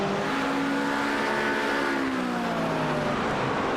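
Acura and Porsche race cars in a racing video game at Suzuka, engines droning loudly and steadily with rising and falling whining pitch as they lap together, no talk over them.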